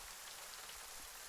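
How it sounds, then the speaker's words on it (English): Steady rain falling on surfaces as background ambience at a tabletop roleplaying session, a soft continuous hiss with no voices. "as you are feeling the rain, the hot rain on your face"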